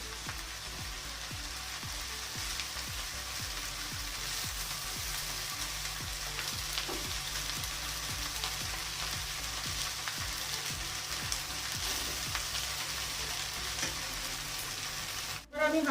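Paneer cubes fry in a pan for fried rice, a constant soft sizzle with a fine stream of tiny crackles and pops, ending in a brief clatter.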